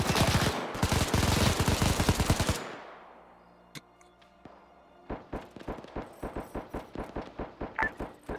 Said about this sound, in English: you guys decided to go in the front of a compound and get murdered by a machine gun